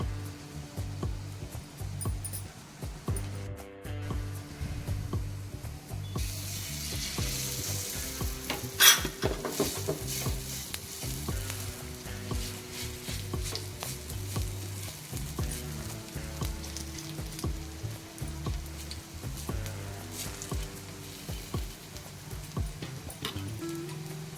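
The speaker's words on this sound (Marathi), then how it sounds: "आपण आता दुसरी वडी टाकणार आहोत" Colocasia leaf vadi fry in oil in a pan, a soft continuous sizzle with occasional pan clinks and scraping as pieces are placed, steady and close without talk.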